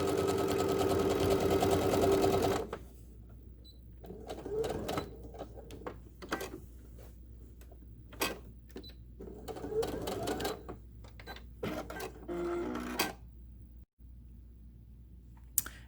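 A sewing machine with a standard presser foot top-stitches the binding on a quilted blossom wall hanging. Short whirring bursts of rapid stitching stop and start, separated by quiet pauses and small clicks.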